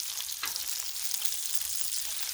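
Bacon sizzles in a pan on a Blackstone griddle, a bright, hissing crackle that stays steady and close throughout, with a few sharper spits and pops and no voices.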